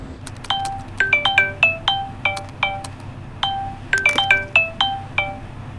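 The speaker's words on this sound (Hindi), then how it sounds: "मैं कब से तुम्हारा फोन ट्राई कर रही हूँ, उठा क्यों नहीं रहे हो?" A phone ringtone plays a bright, bell-like melodic pattern of quick repeated chimes that run in phrases across several seconds, clear and fairly loud over a faint background hum.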